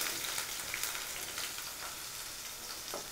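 Snake gourd pieces sizzle and fry steadily in hot oil, a dense continuous crackle with small pops and occasional stirring, close and moderately loud with no talking.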